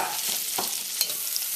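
Finely minced garlic and chopped scallions sizzle gently over low heat in bacon fat, a soft steady crackle with a couple of brief stirring knocks.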